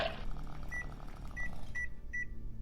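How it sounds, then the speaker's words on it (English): Microwave oven humming steadily at low level while a short electronic beep sounds four times at a regular pace, the last beeps clearer as the hum drops away. "drying the severed parts in a microwave"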